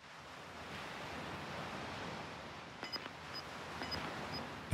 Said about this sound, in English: matching our breath with the rhythm of the crashing waves